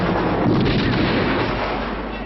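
Musket and artillery gunfire in a colonial-era video game battle with redcoats, a loud, dense barrage of booming shots and rumbling blasts rolling continuously, with no voices over it.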